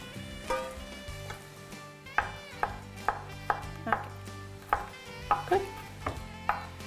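Meat browning in a hot pan with no salt added, sizzling steadily while a utensil scrapes and stirs it in a regular rhythm of sharp knocks about twice per second, close and clear with no talking.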